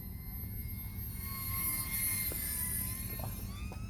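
A Sunnysky/OMP Hobby S720 RTF RC airplane flying overhead, its electric motor whining in a steady tone that slowly shifts in pitch, with a constant rush of wind and outdoor noise underneath.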